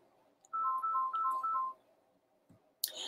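A phone rings with an incoming call, four short electronic trill bursts in a regular pattern, followed by a brief click and a rustle.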